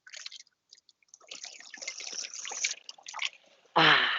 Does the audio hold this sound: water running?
yes